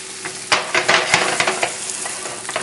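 Fillet of sole sautés in a pan with a steady, loud sizzle, broken by sharp crackles and pops throughout, and no voices.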